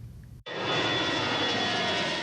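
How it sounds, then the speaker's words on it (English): A low-flying plane departing St. Pete Clearwater Airport roars loudly overhead above homes in Safety Harbor and Clearwater, surging in abruptly after a brief pause and then holding as a steady, broad engine rumble. "planes that are leaving the airport and flying directly over their homes here in Safety Harbor and Clearwater"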